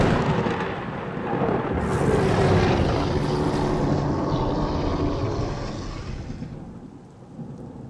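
A loud, steady thunderstorm with continuous heavy rain and rolling thunder rumbling throughout, the roar easing slightly toward the end with no voices.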